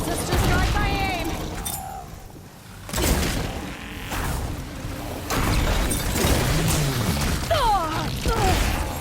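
Glowing crystals detonating in Horizon Burning Shores, set in the ruins of LA: repeated loud blasts and gunfire-like bursts through the clip, with game effects and voices around them.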